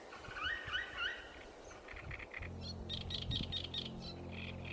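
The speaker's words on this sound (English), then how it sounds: "650 bird species paint the pantanal sky into a living canvas" Several birds call in the Pantanal wetland, trilling chirps at first, then repeated higher calls over a steady low hum. The calls are moderately distant against a dense natural background.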